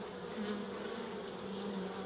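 Bees drone steadily around a beekeeper's head near swarming hives, a continuous close buzz with slight pitch wavers, no talking.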